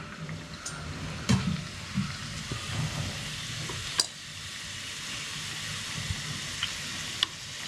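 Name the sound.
karanji frying in ghee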